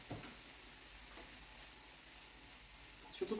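Soft, steady sizzle of seafood with curry frying in a pan on the stove, faint and continuous with no voices.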